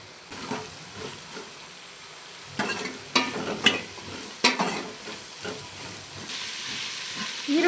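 Onion and capsicum strips fry in a pan for bisibele bath, a steady sizzle broken by repeated scraping stir strokes of a spoon against the pan.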